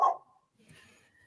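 A dog gives a single short bark at the start, fairly close and loud, followed by faint, muffled background sounds. Only one bark is evident, with no sustained barking.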